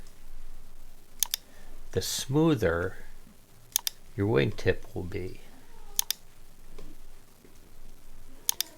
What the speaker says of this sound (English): I'm just holding down my shift key and pressing my mouse button.